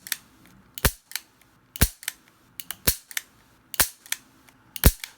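Sharp, crisp mechanical clicks from the double-action trigger and cylinder of a .500 Magnum revolver, about a dozen close metallic snaps, many paired, spaced irregularly across a quiet background.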